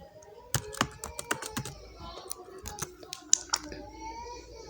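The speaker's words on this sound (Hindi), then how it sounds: "आपने शिफ्ट दबाना अपने कीबोर्ड से और अंडरस्कोर को प्रेस करते जाना है इस तरह से करके" Typing on a computer keyboard while holding Shift to enter a row of underscores: quick, irregular clicks of varying loudness, close and fairly quiet, with no talk.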